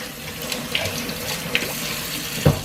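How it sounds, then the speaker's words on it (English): Hands are rinsed under a running kitchen tap while tortilla dough is being made, a steady hiss of flowing water over a sink with a few soft splashes and a louder knock near the end, no voices. "Wash off my hands here."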